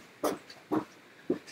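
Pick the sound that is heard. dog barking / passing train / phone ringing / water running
dog barking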